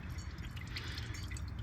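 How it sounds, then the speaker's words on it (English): Engine oil drips from the drain of a 2007 Dodge Ram during an oil change, a faint, steady patter of quick small drops falling into a catch pan. "it has been dripping for a little while now, pretty much done"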